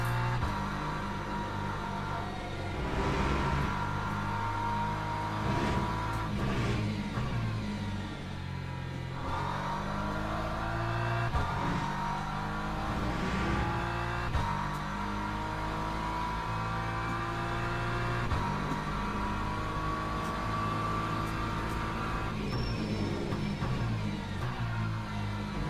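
A race car engine in the game Le Mans Ultimate, driving at Bahrain with front and rear damage, drones and revs continuously, pitch climbing and dropping through gear changes, loud and close throughout.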